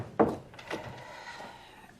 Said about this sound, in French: Ferme la porte derrière toi